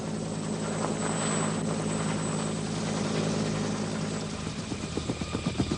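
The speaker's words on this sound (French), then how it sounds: "Le bruit familier et l'apparition d'un Huey Dust-Off étaient littéralement bénis des combattants blessés ou immobilisés" A Bell UH-1 Huey Dust-Off medevac helicopter drones loudly and steadily with a low engine roar, the rhythmic thump of its rotor blades coming through more clearly toward the end.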